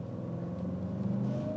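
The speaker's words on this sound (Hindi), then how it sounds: "एग्जॉस्ट नोट भी कंप्लीटली चेंज हो जाता है इस गाड़ी का" A Mercedes-AMG GLE63S in Sport Plus mode gives a steady, deep exhaust burble and engine rumble that holds at an even level and sits close, with no voices over it.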